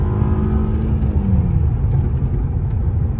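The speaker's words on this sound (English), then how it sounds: "We spun the wheels a lot right there." A Volkswagen turbo 4-cylinder with a DSG gearbox in sport mode accelerates hard with its wheels spinning: a loud, close, steady engine roar with rumble and whir, no voices.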